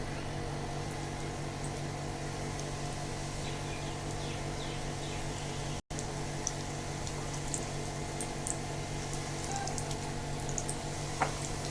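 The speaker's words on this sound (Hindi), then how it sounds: "ये देख सकते हैं हमारा फुल्की फ्राई हो रहा है" Pani phulki dough balls frying in hot oil, a steady, dense sizzle and bubbling that runs continuously with faint higher crackles, interrupted by one abrupt momentary dropout midway.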